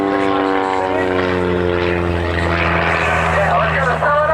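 A propeller airplane at an EAA event drones loud and steady, its buzzing engine tone holding throughout with a slight rise near the end.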